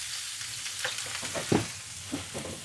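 King oyster mushrooms sear in hot oil in a pan, giving a steady soft sizzle with a few louder pops and spatters near the middle, no voices over it.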